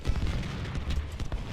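Musket volleys crack out in a Civil War battle in the strategy game Ultimate General: Civil War, a quick run of distant, muffled shots layered over each other.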